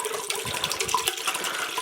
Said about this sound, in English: just going to pour this in here